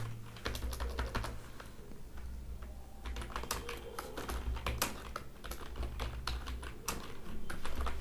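Fast, steady clatter of keys on a computer keyboard, heard close and fairly quiet as a continuous run of crisp taps with brief pauses and no voices.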